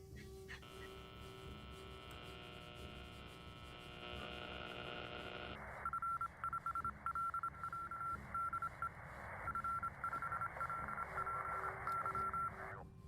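Radio tuning in the naval strategy game HighFleet: steady electronic tones and hum, then a shift into a noisy band where a beeping, chirping signal pulses on and off.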